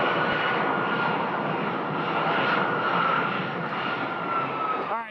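A jet airliner comes in to land at Phoenix Sky Harbor Airport, its engines giving a loud, steady roar that holds through the whole stretch and fades slightly at the very end, with no talking.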